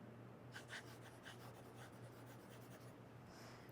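Calligraphy pen scratching across the screen of a reMarkable Paper Pro tablet, a series of short, faint strokes in a steady run over a low hum, with no talking.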